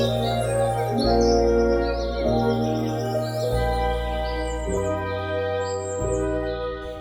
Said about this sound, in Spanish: apenas el pájaro comenzó a cantar, cuando los ruiseñores, las alondras, los pinzones y malvices, todos los pájaros del cielo, vinieron a su lado